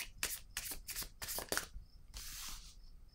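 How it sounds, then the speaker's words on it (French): A deck of cards is handled and shuffled, with a series of quick riffling flutters in steady bursts, close up and soft, before a card is drawn with a brief papery swish. "Je vais piger une carte noire."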